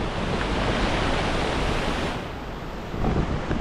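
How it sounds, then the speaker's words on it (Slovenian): A waterfall on a river in Vietnam pours in a steady, dense roar of broadband rushing water, loud and close, with no voices over it. "No, tukaj je pa še en slap."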